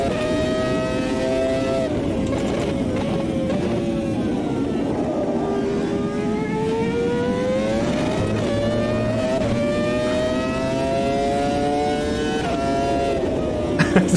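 A Group C race car engine in the Automobilista 2 racing game, loud and close, revving and climbing through gears in rising, falling sweeps with brief lifts between them, steady for the whole stretch.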